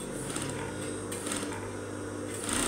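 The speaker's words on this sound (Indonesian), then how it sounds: "kita jahit bagian segitiganya" A sewing machine stitches the triangle of a blazer pocket flap, a rapid, steady mechanical whir with short pauses and restarts, close up and without talk.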